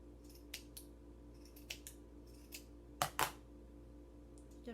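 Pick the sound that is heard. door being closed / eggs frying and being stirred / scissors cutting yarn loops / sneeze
scissors cutting yarn loops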